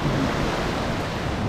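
Waves break and wash steadily along a beach in northern Morocco, a continuous broadband surf roar mixed with wind, loud and close with no pauses.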